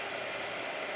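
A blow dryer runs steadily and up close, a continuous broad whooshing roar used on a hot press sketchbook page.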